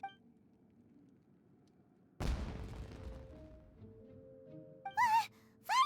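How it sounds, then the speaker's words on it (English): A single firework burst booms in Genshin Impact, a sudden loud blast decaying into crackle, followed by short voiced game sounds. "The fireworks were enough to distract them."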